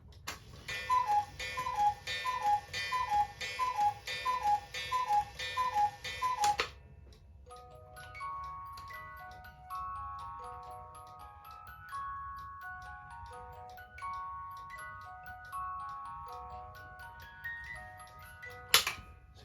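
Mechanical cuckoo clock with its beat being leveled, ticking in a steady even rhythm, close and clear; a bright chiming or music-box melody plays partway through alongside the ticks, with no talking.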